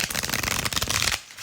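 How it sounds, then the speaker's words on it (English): A deck of tarot cards shuffled by hand, a dense, continuous riffle of papery flutters lasting about a second before cutting off abruptly, close and fairly loud with no voice. "We'll just give it a few shuffles."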